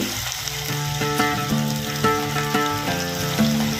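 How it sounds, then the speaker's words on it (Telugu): Marinated chicken pieces for homemade chicken pakoda frying in hot oil on a medium flame, a steady loud sizzle with bubbling crackle throughout, close up. "వన్ అవర్ మ్యారినేట్ అయిన చికెన్ని ఒక్కొక్క ముక్కగా ఆయిల్లో వేసుకుందాం"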